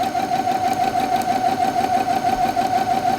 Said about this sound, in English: I'm just going to run a basic stitch.